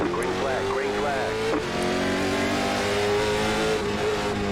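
Late model stock cars in the iRacing video game surge forward together at the green flag on a short track, a steady loud engine drone with rising revs and a brief squeal, with a commentator's voice running over it.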